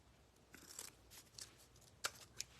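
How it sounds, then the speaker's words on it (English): Ribbon for a Christmas gnome wreath being cut with scissors, a few soft, quiet snips and crisp clicks of the blades scattered over a couple of seconds, close and alone. "And I cut my ribbon 12 inches long."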